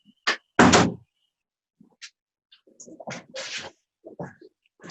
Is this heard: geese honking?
no